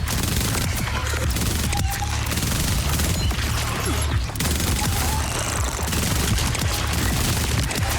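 Rapid shotgun fire in the video game Borderlands 4, a dense, continuous barrage of loud blasts with crashing impacts running throughout, with no break and no speech.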